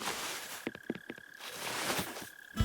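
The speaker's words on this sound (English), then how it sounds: "Well, it is a cricket. It's a mole cricket." A mole cricket in Animal Crossing: New Horizons gives a low, rhythmic croaking trill in short bursts, with a faint steady tone beneath, heard alone.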